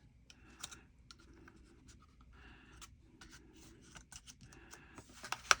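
Paper being bent and handled for a junk journal pocket envelope, a series of close crinkling rustles and small taps, soft and intermittent, with a sharper crackle at the end.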